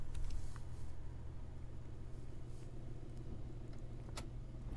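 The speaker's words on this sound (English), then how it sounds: "she pulls the car to a rolling stop" A car rolls slowly to a stop, giving a quiet, steady low rumble of engine and road noise with no voices.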